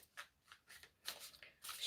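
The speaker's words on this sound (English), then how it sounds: "shuffle the cards" A deck of cards riffles and shuffles in quick repeated bursts, close and fairly quiet, with no voices.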